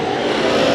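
Race cars roaring around the dirt oval at Bakersfield Speedway during heat races, a steady loud engine drone with no break and no voices over it.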